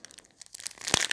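A small gift bag tied with a bow being opened, with short crinkly rustles of paper or plastic building to a denser crackling burst near the end, close up and fairly quiet.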